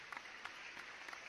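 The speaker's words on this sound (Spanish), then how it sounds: "este aplauso es para este hombre" Faint clapping from a crowd, a brief steady patter of applause heard at a distance with no voices over it.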